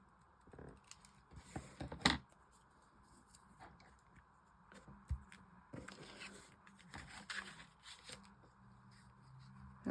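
Scissors snipping through paper while making a greeting card at a craft table, with irregular soft cuts, rustles and handling noises close by and no talking.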